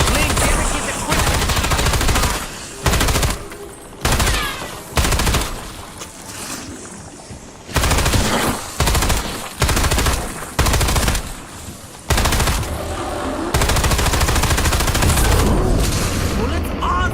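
Video game gunfire in Ashes of the Damned comes in repeated loud bursts of rapid automatic fire, separated by brief pauses, close and dominant, with some talk in between.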